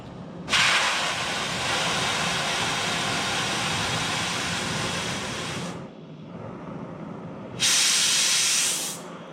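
Gas torch being bled: a loud steady hiss runs for about five seconds, pauses briefly, then a second sharp burst of hissing follows, close up in a workshop during a Farmall Super C engine rebuild.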